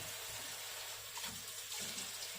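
Steady broadband hiss of tap water running into a sink as hands are wetted, continuous and fairly close, with no talking.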